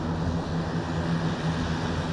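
An Iranian Simorgh turboprop multirole transport aircraft drones loudly and steadily overhead, a constant engine and propeller roar with no other sounds.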